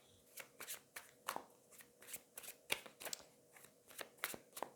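A deck of tarot cards is shuffled by hand in close, quick bursts of papery riffling and slapping, repeating in an uneven rhythm for several seconds with no voice.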